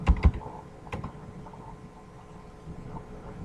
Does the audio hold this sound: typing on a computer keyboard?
yes